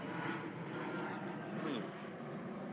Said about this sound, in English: Had to let that airplane go by.